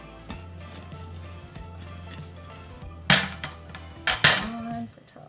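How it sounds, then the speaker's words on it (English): A homemade frittata slides out of a pan onto a plate, giving a couple of loud scraping clinks of metal against dishware over a low steady hum, with no talking. "So I am just going to slide that right out onto my plate."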